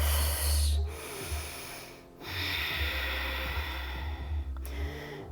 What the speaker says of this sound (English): Let's take 3 breaths.